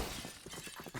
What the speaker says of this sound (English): Broken glass galore